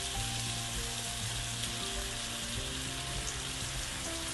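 About 500 grams of chopped mushrooms sizzle and fry in a pan with tomato for a mushroom gravy, a dense, steady crackling hiss that runs loud and unbroken throughout.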